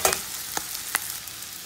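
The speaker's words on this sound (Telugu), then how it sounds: "ఎంత మంచి స్మెల్ వస్తుందో బటర్లో ఆనియన్ ఫ్రై అవుతుంటే" Onions fry in butter with a steady close sizzle, broken by a few sharp crackles and pops.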